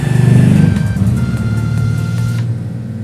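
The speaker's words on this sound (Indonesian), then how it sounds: "oke, ada motor lewat" A motorcycle passes close by, its engine loud and droning at first, then fading steadily as it moves away, with no talk over it.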